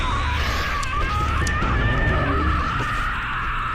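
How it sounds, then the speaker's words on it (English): Wretch scream from the video game Gears of War 2, a continuous shrill wailing shriek that holds loud and unbroken across the whole stretch, with no speech over it. "we heard the worst thing imaginable. The wretches scream."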